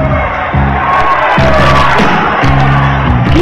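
A loud, dense crowd at a kickboxing match shouts, whoops and cheers in continuous surges, with a few brief dips before the roar swells again.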